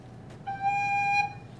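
A recorder plays the note G as one clear sustained whistle-like tone lasting under a second, moderately quiet and alone, with a faint breathy onset.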